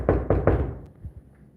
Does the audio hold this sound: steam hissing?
no